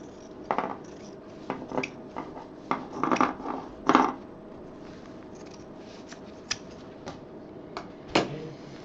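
Scissors snipping off excess fabric while a handmade purse is being sewn, a series of short, sharp metallic clicks and snips at an uneven pace, fairly quiet and close, with pauses between cuts.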